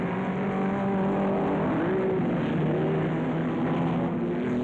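Ferrari and Maserati race cars at the 1953 French Grand Prix in Reims: a loud, continuous engine roar with sustained tones that shift in pitch as cars pass, all dense and close.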